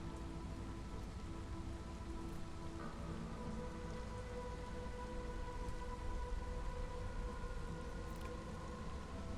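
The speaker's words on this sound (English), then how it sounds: "Wait for the storm to end." Steady, dense rain of a storm in the video game Against the Storm pours without pause, a broad hiss under low game tones and faint tonal hums, with no talking.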